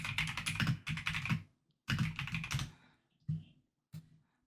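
Fingers type on a computer keyboard in quick, clattering bursts of keystrokes, broken by short pauses and a few isolated taps near the end.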